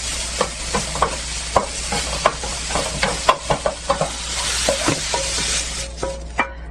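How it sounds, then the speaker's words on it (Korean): Sliced mushrooms stir-fried in an oiled pan for japchae, sizzling steadily while a utensil scrapes and taps in regular strokes, close and loud, with no talking. "버섯 정도만 섞어 볶습니다"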